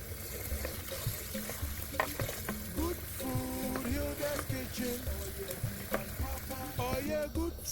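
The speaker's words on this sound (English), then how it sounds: "All our green veggies are in here together with the oil, and it is cooking." Green vegetables cook in oil in a pan for a homemade healthy green sauce, giving a steady sizzle and stirring clatter with intermittent tonal clinks and scrapes throughout.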